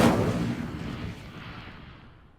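A fire spell cast in the video game Hogwarts Legacy, heard as a loud burst of flame that roars at once and then fades away over about two seconds.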